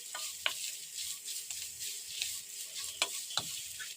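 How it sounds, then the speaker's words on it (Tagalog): Chicken adobo cooks in a pan with vinegar and soy sauce, a steady soft sizzle broken by a few scraping stirs and clinks of a utensil against the pan. "Takpan at lutuin lang natin ito ng ilang minuto hanggang sa ma-absorb na ng chicken yung suka at saka toyo."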